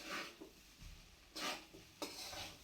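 Paneer pulao being stirred and mixed in a pan with a spoon, giving a few soft scraping and rubbing strokes against the metal, quiet and close, with no talking.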